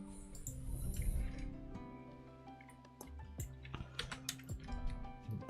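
Typing on a computer keyboard as short key clicks in uneven bursts. A low steady hum and tonal background sound sit beneath them.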